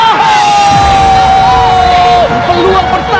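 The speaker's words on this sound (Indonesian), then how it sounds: "membuat tentunya para penonton Indonesia berteriak di malam hari ini" Loud stadium crowd of Indonesian fans roaring and yelling at a football World Cup qualifier, a dense sustained roar with rising cheers and whistles, while a commentator talks over it.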